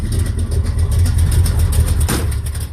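A muscle car engine, freshly fixed ignition, runs steadily and loudly with a low rumbling idle throughout, close to the microphone, with a brief sharper burst near the end.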